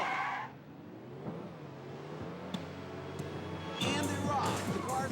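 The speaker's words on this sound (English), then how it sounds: "The cars are screaming past the starting line." Race cars in Ridge Racer V roar off the starting line at a Grand Prix, a brief burst at the start and then dense engine whine with tire squeals building toward the end.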